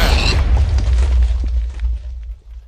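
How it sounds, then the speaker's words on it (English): A loud explosion in the Minecraft Darkness Mod game bursts at the start, then settles into a long rumbling boom that fades away over a few seconds, with no voices. "So this explosion is apparently causing a little bit of glitchiness"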